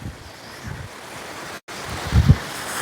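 Ocean surf and steady wind roar loudly at Keelakarai beach in Ramanathapuram district, with wind buffeting the microphone, a brief dropout, then a low rumbling gust.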